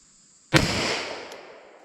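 A single sharp gunshot from a S&W Governor revolver firing a defensive load, a loud close crack that rings out and decays over about a second in otherwise quiet surroundings.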